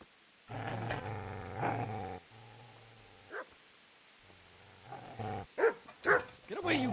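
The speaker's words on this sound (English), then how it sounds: "Get away, you mutt!" A dog growls and barks in the medieval game Kingdom Come: Deliverance, with low snarls followed by sharper yelps and barks. A voice shouts over it at moderate loudness.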